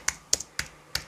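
Four sharp, separate keystrokes on a computer keyboard, close and crisp with short irregular gaps between them, one followed by a softer tap.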